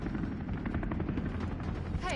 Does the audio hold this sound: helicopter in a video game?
yes